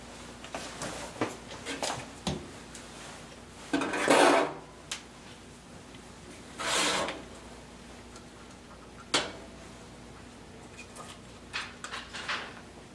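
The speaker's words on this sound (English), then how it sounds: "It's been about 10 minutes in the pan and they're coming right out." Strawberry muffins being turned out of a metal baking pan onto a cooling rack, with scattered clinks, knocks and a few louder rattling scrapes of the pan over a faint steady hum, no talk.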